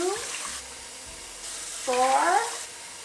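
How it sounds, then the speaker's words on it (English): Cold water runs from a kitchen tap in a steady hiss, with a person talking over it in a brief spoken phrase near the end. "So we run the cold water a little bit here."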